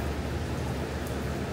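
Heavy typhoon rain in Taiwan falling as a dense, constant hiss that fills the whole moment, loud and close, with no voices.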